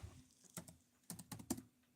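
Quiet, close keystrokes on a computer keyboard, a few scattered clicks and short bursts of typing with brief pauses between them, no voices.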